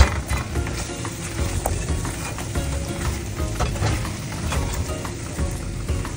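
Fried chicken wings tossed with parmesan cheese in a bowl or pan, a steady close rustling, clattering stir with sizzle-like crackle throughout and no talking.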